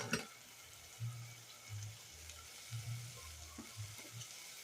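Aromatics warm and melt in a pan with a soft, steady sizzle, with low scraping stir sounds every second or so, faint and close.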